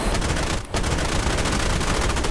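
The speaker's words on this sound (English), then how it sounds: "I'll do one more gun strafe and then I'm out of here. I can hear those guns going off from a mile away." Aircraft cannons in the Flaming Cliffs flight sim fire on a strafing run as a dense, rapid, loud burst, broken by one short gap before the firing resumes.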